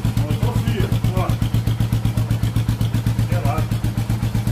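A cold motorcycle engine idles with a steady, rapid, rhythmic thumping pulse, close and loud throughout, while someone talks over it.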